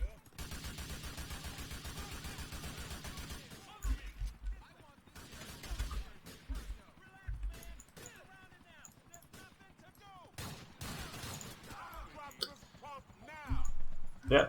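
Gunfire in GTA IV aimed at the player, bursts of sharp shots with a dense rapid volley early on, then scattered cracks and pops amid game sounds, with someone talking over parts of it.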